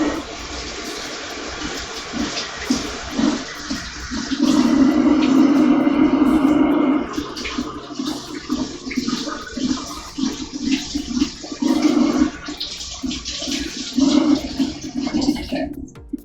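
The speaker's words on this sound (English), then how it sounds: "need to wash these raspberries" Running water from a kitchen tap pours steadily over a half pint of fresh raspberries, a loud, continuous rushing splash that swells and eases as the berries are rinsed, with no talk.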